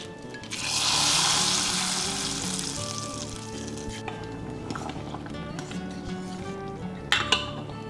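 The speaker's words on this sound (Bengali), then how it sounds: "সর্ষের তেল গরম করে ধোঁয়া উঠলে আঁচ কমিয়ে শুকনো লঙ্কা, তেজপাতা আর কালো জিরে ফোড়ন দিচ্ছি।" Dried chilies, bay leaf and nigella seeds hit hot mustard oil, making a loud burst of sizzling that settles into steady frying, with a couple of sharp utensil clinks near the end.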